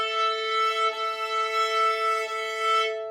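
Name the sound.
violin bow accidentally hitting the E string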